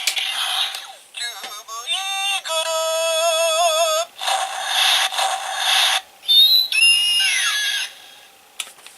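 A DX Zyuoh Changer transformation toy from Doubutsu Sentai Zyuohger triggering its Eagle summon effect: loud electronic tones and warbling synthesized chimes, then a screeching bird-like cry and sparkling jingles, all close and crisp, with no talking.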